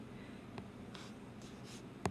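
A marker or pen scratches across a board while the law of cosines is written out, soft quick strokes in short bursts, close and quiet, ending with a sharper tap.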